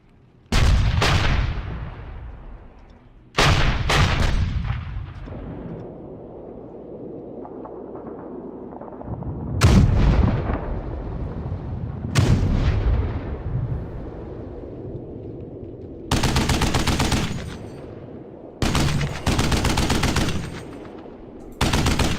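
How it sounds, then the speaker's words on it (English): Bursts of .50 cal machine gun fire from the World War II game WDS Poland 39 rattle out loudly in several long volleys, with booming impacts and rumbling echoes between the strings of shots. "But a 50 cal sound has to go."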